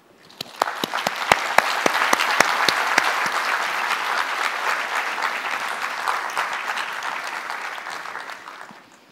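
An audience breaks into warm, sustained applause welcoming architect Shigeru Ban on stage at a design forum, with crisp close claps early on and a dense, even roar of clapping that swells and then tapers off.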